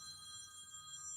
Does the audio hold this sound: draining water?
no